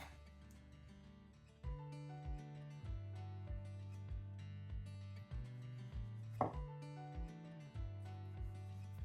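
A Morakniv Amberg full-flat-grind knife with 14C28N steel slicing a tomato on a board, a steady series of soft, close chops over quiet background music, with no talking.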